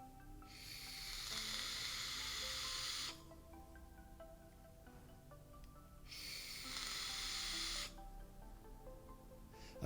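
Two strong hissing, crackling bursts come from a Kanger Cupti e-cigarette with a 0.55 ohm coil pushed to 45 watts, each lasting a couple of seconds with a lull between, and no voices.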